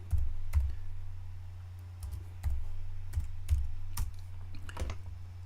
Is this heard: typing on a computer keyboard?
yes